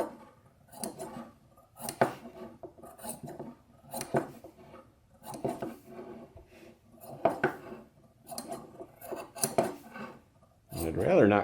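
Sheepskin is being cut to round off the edge of an ushanka hat, making a steady series of crisp snips roughly once a second, close and distinct against a quiet background.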